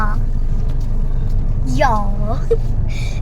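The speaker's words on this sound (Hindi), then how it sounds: "मम्मी कार भी चला रही है" A car driven by a mother hums steadily from inside the cabin, a constant low engine and road drone under children's and adults' voices talking.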